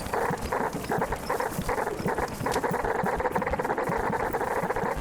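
Dogs barking and yelping in the video game Animal Well, a dense continuous clamour of overlapping yaps and whines, loud and close throughout with no speech.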